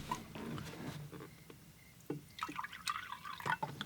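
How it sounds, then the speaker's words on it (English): Fresh water poured into a painter's rinse container for landscape painting, heard as soft, close trickling and splashing with scattered drips, rising and falling in irregular bursts with no talking. "let's add fresh water."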